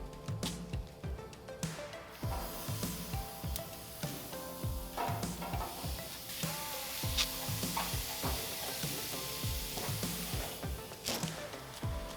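Steak kabobs sizzle steadily on a Mesa 400 grill at medium heat, with dense crackling and repeated close clicks and taps as skewers are set down and handled.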